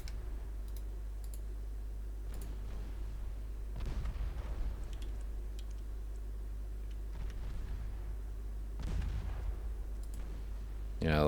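Sharp reports from 6.2-inch naval guns ring out in Ultimate Admiral Dreadnoughts, a few spaced cracks over a steady low engine hum, with occasional clicking nearby.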